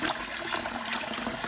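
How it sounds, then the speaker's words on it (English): Rinse water is poured off washed rice in a steady, continuous splashing trickle that lasts a moment, close and fairly loud, with no talking. "pour the water out"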